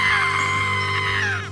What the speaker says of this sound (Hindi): ये देखकर नोनू मोनू और रॉकी बहुत जोर जोर से चिल्लाने लगते हैं।